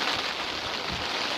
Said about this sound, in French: vu qu'il commence vraiment à pleuvoir